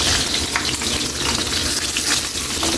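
Sliced pork sizzling and frying steadily in a hot pan, a continuous crackling hiss with small spatters, close and fairly loud, no voices.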